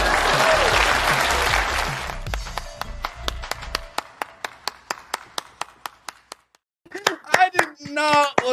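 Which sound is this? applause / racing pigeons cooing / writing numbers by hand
applause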